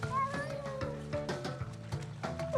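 A cat meows repeatedly in short, quiet calls, several brief mews spaced closely over a couple of seconds, faint and close with no talk over them.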